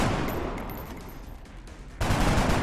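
Gunfire in the turn-based tactics game XCOM, a rattling burst of shots that fades off before a sharp, louder blast lands at the end.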